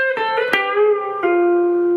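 Electric guitar note held at the 10th fret and bent by pulling the string down with the third finger, several clear sustained tones ringing out alone, the pitch easing downward.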